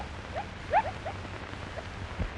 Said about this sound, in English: Unusual and rare baby bat-eared foxes run for their dugouts, where they huddle close together and cry plaintively in fear for their lives.